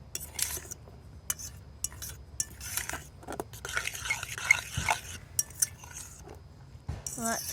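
A utensil scrapes and clinks against a pan while eggs, cheese and pepper are stirred together over a rocket stove, an irregular run of close metallic taps and scrapes with no talk.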